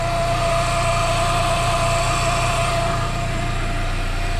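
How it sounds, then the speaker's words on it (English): Loud, steady high whine from a brand-new intercooler pump on a running Chevrolet Cobalt SS, sitting over a constant engine idle rumble and holding unbroken throughout. "Do you guys hear that? My intercooler pump's really loud."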